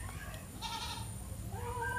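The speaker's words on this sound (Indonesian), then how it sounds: "terdengar suara kambing karena di sini banyak kambing teman-teman" Goats bleating nearby in a rural outdoor spot, two short wavering bleats about a second apart over a low rumbling background, faint and with no talk.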